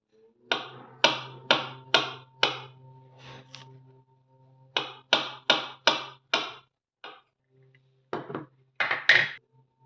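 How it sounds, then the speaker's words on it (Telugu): A knife chops half an avocado into small pieces on a board, giving crisp, evenly spaced taps in quick bursts of four to six strokes with short pauses between them, close and clear with no talking. "దీనికోసం హాఫ్ అవకాడోని చిన్న ముక్కలుగా కట్ చేసుకోవాలి."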